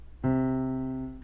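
A single sustained C note from a vibrating string sounds cleanly on its own, struck sharply and then held with a rich, steady tone that slowly fades.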